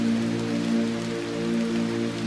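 Steady rain falling on a city street, a continuous close patter and wash with a low background hum and no voices.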